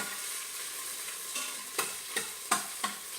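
Food browning in a hot Instant Pot, a steady sizzle of frying with several sharp stirring scrapes and clatters toward the end, with no talk.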